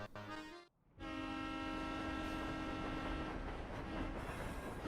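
Train in the Professor Layton video game rolling along the tracks, a loud continuous rumble with a steady whistle-like tone held over it, starting abruptly after a short chime-like tone and brief gap.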